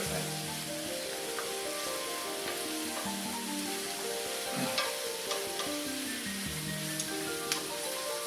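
Two medium red peppers sizzling loudly in a full frying pan while being stirred, a continuous crackling fry with occasional scraping and clinks of the utensil, close up and without talk.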